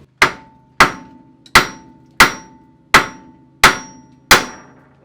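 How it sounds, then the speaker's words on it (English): A sledgehammer strikes the side of a 1979 Camaro Z-28 front suspension to knock loose the upper ball joint: seven loud, evenly spaced metallic blows, each with a brief ringing decay, and no talk. "I should be able to take a sledge and smack the side of this"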